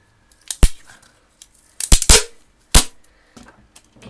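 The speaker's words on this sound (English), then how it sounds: "we're just going to get our tape, get about that much" A strip of sticky tape is pulled and torn off the roll for a craft build, heard as several sharp, crackling rips with short gaps between them, close and fairly loud with no talking.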